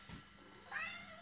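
A cat meows in the Inazuma Eleven GO 2 video game, with a short rising and falling cry heard twice, the second one longer and clearer, over a steady background hum.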